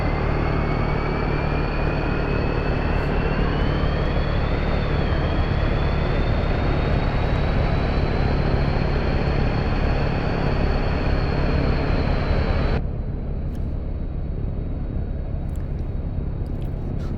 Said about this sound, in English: Now we'll start engine number 1.